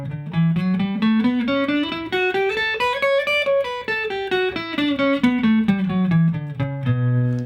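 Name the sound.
guitar B note played at 7th fret on low E string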